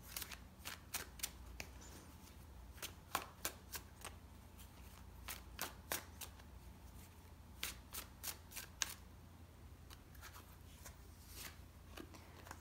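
Tarot cards shuffled and drawn by hand, with quiet crisp riffling and snapping bursts in irregular clusters, close and soft, and no talking.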